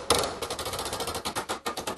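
Rapid, even hammer blows on a 20 gauge sheet metal fender, roughly a dozen sharp metallic strikes in a quick steady rhythm, close and loud with no talking.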